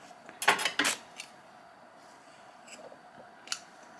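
Scissors snip through yarn at close range, with two quick crisp cuts followed by a couple of fainter clicks of the blades in a quiet room.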